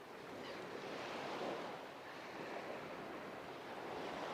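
Sea waves wash onto a beach in Odesa in a continuous soft roar of surf, with wind buffeting the microphone. Steady, fairly quiet and unbroken, with no voices.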